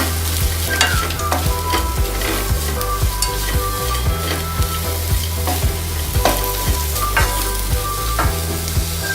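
Grated coconut is stirred in a hot pan for coriander chutney: loud, close sizzling with repeated scraping strokes of the spoon against the pan, steady and rhythmic throughout.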